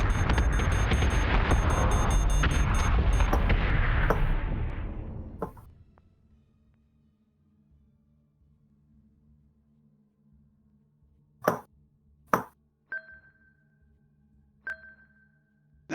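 Warships explode in Battlestar Galactica Deadlock, with a loud sustained roaring blast that fades out over a few seconds, then a quiet hum broken by sharp beeps and tonal electronic pings.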